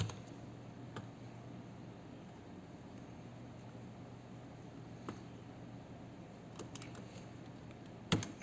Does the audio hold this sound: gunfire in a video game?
no